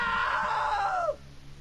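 A scream in the video game What Remains of Edith Finch: one loud, drawn-out cry slides downward in pitch and cuts off abruptly after about a second, leaving a quiet low hum.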